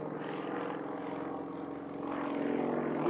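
A Sukhoi aerobatic propeller plane flying manoeuvres at a competition, a steady buzzing engine drone heard from a distance that swells slightly and rises in pitch toward the end.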